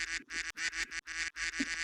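Repeated nasal duck quacks fire off in quick succession, about six bursts in under two seconds, all at an even, fairly quiet level, as played from a comedy soundboard.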